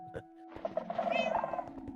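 A cat in the Minecraft world of Marsh SMP gives a short meow and then a rattling, purring trill, close and fairly quiet.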